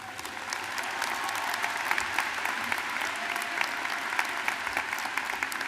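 Steady, full applause from a commencement audience at Quinsigamond Community College's 2019 graduation, dense and continuous for the whole stretch with no voices above it.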